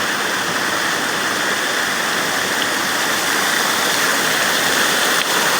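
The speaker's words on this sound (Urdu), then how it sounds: "یہ بالکل پیچھے والا یہ پانی ہے جو نیچے تک بہتے دور تک" Stream water flows and rushes down through a leafy outdoor spot, a loud, steady, unbroken roar close by with no voices.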